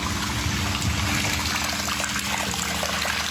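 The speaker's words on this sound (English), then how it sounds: "He's had to dump thousands of litres of milk." Water buffalo milk pours steadily down a drain in a continuous, close, broadband gush with no pauses and no voices.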